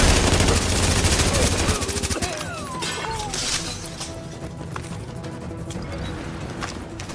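Rapid automatic gunfire from a turret in the video game The Division, dense loud bursts that give way to quieter scattered shots and game effects, with a voice speaking briefly.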